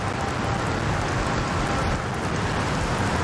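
Heavy rain pours steadily and loudly over an outdoor football match in Kuala Lumpur, a dense, unbroken hiss with no pauses.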